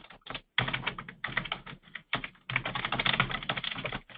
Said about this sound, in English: I think we've got somebody who is doing some typing in the background